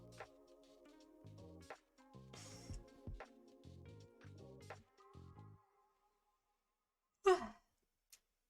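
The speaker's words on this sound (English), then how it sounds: "Now that I've yawned" A person gives a single short, breathy yawn that sounds like a sigh, heard close and alone after a run of soft, plucked musical tones.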